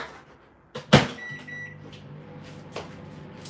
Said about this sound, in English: Alright, another minute in the microwave.